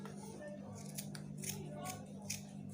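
Scissors snip through fabric while a flare sleeve is cut out, a handful of crisp, separate cuts at an even pace, quiet and close against a faint background hum.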